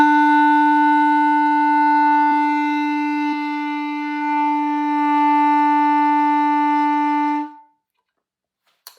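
A single sustained clarinet E note held steadily for about seven seconds, clear and reedy with a strong tone, then cut off into silence.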